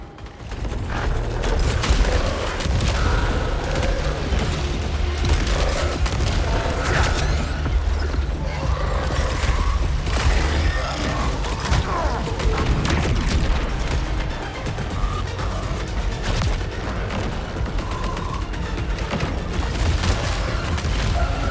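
Steady gunfire and booming impacts from the Saros video game run continuously and loudly, with a dense mechanical clatter and repeated bursts filling the whole stretch.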